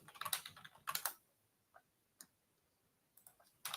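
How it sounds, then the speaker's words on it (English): Bursts of typing on a computer keyboard, rapid clusters of clicks separated by quiet pauses and a few isolated single key taps, fairly close and with no talking. "My typing is horrendous."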